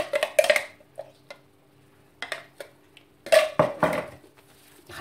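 Minced meat being mixed with other ingredients for a quick ground-beef steak, heard as scattered clinks and scrapes of utensil against bowl in short bursts separated by quiet gaps, close and moderately loud.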